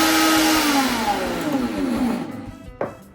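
A blender whirls a milkshake with a loud motor whine that slowly falls in pitch as it winds down, then stops with a brief final clunk.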